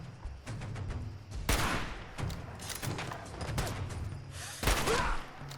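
A Fallout 4 shootout with a gun-wielding survivalist: repeated sharp gunshots and thuds crack out at irregular intervals, some loud and close, others quieter, over a busy game backdrop.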